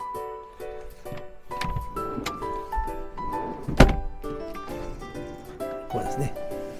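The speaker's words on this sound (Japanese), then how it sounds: "これですね、これで引き出して一発でこうですねベッド展開できますよと。" Bed in a small camper van being pulled out and unfolded, with knocks and thumps, one heavy clunk in the middle, and someone talking over the movement throughout.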